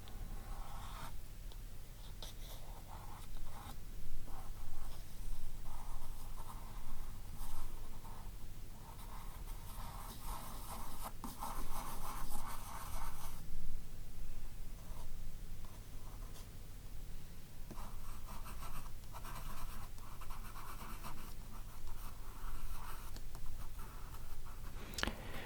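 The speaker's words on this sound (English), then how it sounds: "So I'd better do some accurate sketching before I start with the markers." Pencil sketching a map of Canada on paper, soft close-up scratching and scraping strokes in irregular bursts with brief pauses, quiet and intimate with no talk.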